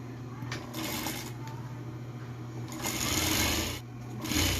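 Sewing machine stitching the back panel of a fish-shaped backpack, a steady close mechanical whir with rhythmic needle chatter that speeds up and slows in bursts throughout.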